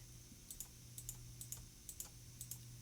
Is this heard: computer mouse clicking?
yes